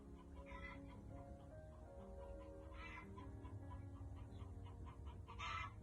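A pet hen clucks in soft, scattered bursts from close by, several short calls spaced irregularly over a quiet, low indoor hum, with no one speaking.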